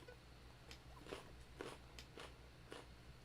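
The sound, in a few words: crunching on raw carrots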